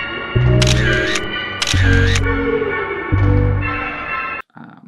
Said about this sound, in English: But first, let me take a selfie.